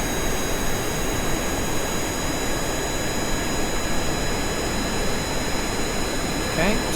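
A jet engine roars steadily during an aircraft takeoff in Kerbal Space Program, a loud, continuous broadband rush with a faint high whine and no break throughout.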